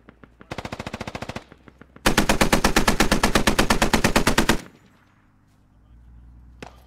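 A mounted machine gun in the military shooter game Squad fires two long, rapid bursts, the second louder and longer, with sharp, closely spaced shots, then distant ambient rumble and one final crack.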